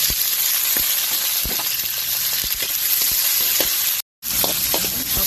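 Tomatoes, garlic, onion and ginger sauté in hot oil in a pan, a steady close sizzle and crackle with occasional soft stirring clicks and no talk.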